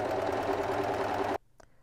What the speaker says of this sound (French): surfiler les valeurs de couture séparément